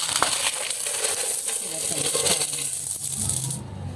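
Mixed coins from a piggy bank, pesos and five-peso pieces, poured out onto the floor in a continuous jangling cascade of metal clinks that stops abruptly near the end, close and loud.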